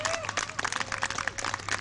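A crowd claps rhythmically to urge on a hammer thrower at an athletics meet in Antigonish, Nova Scotia, with steady hand claps and voices over them.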